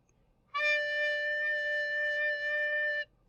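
A low D sustained on a small holed wind instrument, bottom hole uncovered and the rest closed, blown with very slow air; one steady, fairly quiet note holding for about two and a half seconds alone.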